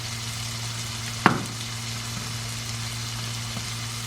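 Halved cherry tomatoes cook in a pan with a steady, low sizzle under a constant hum, broken once by a sharp clink near the start.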